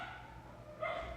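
Distant dogs outside an apartment in Colombia let out a short burst of barking, faint and brief over a low steady background hum.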